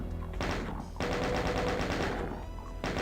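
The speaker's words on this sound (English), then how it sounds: "So now what I do is I use the chain gun to pick out the imps" Rapid chaingun fire from the video game Doom (Alien Vendetta) rattles out in dense, sustained bursts with brief pauses between them, loud and close.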